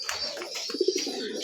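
Pigeons kept for sale coo softly nearby, a few short throaty burbles rising in the middle over a faint background hiss.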